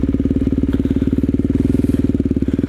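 A motorcycle engine runs steady and loud up close, its rapid even firing pulses pulsing as the rider slips the clutch in third gear while practising a clutch-up wheelie, with no talk over it.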